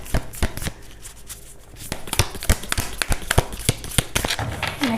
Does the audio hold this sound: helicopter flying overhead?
no